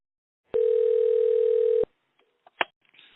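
A steady telephone dial tone holds for just over a second at the start of a recorded freight-booking call, then cuts off, followed by a few faint clicks and a short sharp beep.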